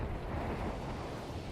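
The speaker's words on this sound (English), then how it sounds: "She has blessed us with a giant explosion." A giant explosion in the video game Battlefield V gives a dense, deep roaring rumble that holds steady for about a second and a half, with no voices.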